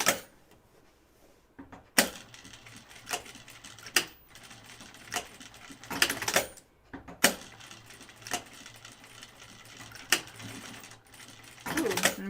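A sewing machine stitches a Blanca flight suit in short, uneven runs, snagging and catching at moments, with sharp mechanical clacks and pauses between bursts.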